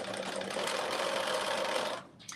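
A sewing machine stitches a 5/8-inch seam on dressy joggers from McCall's 8447, a fast, even motor whir close by that runs for about two seconds and then stops.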